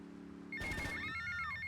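A telephone rings in the Grand Theft Auto: Vice City game, a short electronic trill with a sustained tone that comes in sharply after a steady low engine-like drone.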